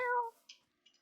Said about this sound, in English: Hey, there's a kitty.